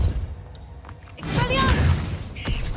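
An Incendio fire spell cast in Hogwarts Legacy erupts as a sudden, loud whooshing, crackling burst over low background game rumble, then fades with a faint trailing sizzle.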